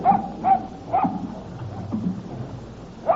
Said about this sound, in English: Whose dog is this?